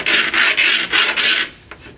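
A penny scraped back and forth over laminate flooring in five loud, rasping strokes, each about a third of a second long, then a faint tap and quieter scratching at the end.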